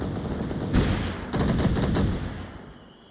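Gunfire in Onward VR, a competitive team match: rapid automatic bursts, one short and one longer, loud and close, with a brief pause between and a fading tail.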